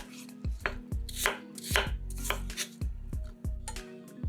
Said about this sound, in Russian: Очищенные яблоки нарезаем кубиками.